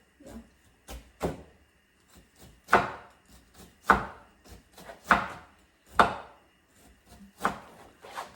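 Pickled cabbage gets chopped on a board with a knife, giving irregular firm thuds, some louder strikes spaced about a second apart, close and clear.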